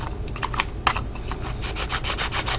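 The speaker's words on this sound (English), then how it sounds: "I need to sand a little bit more." Sanding the edges of a plastic part from a Bandai HG 1/72 Jo Hound model kit, a close, steady rasping scrape in quick repeated strokes over a low background hum.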